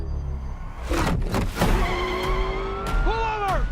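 A Porsche drives through a Transformers: Rise of the Beasts trailer scene, revving up with a brief tire squeal and a rising engine whine, layered with other trailer sounds.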